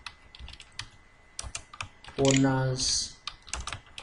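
Keys clatter on a computer keyboard as a Bachelor of Science degree entry is typed into Microsoft Word 2016, a scattered run of light clicks with a brief spoken word and a louder burst of other noise in the middle.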